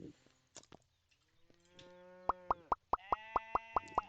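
A cartoonish cow in the farming game Farming & Supermarket Simulator moos several times, followed by a quick run of evenly spaced, bright plopping blips, clear and close against a quiet background.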